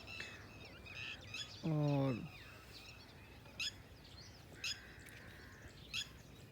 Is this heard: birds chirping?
yes